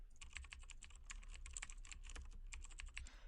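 Code is typed on a computer keyboard in quick, steady streams of light, close key clicks over a constant low room hum, with no talk.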